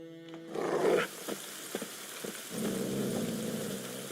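Low, rumbling growls from dogs in a fantasy role-playing game, rising in a short burst then returning as a sustained snarl after brief thuds, with no talk over it.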